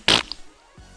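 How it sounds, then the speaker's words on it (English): A single short, loud fart bursts up close and stops abruptly, followed by a faint trailing buzz and quiet. "This is a fart."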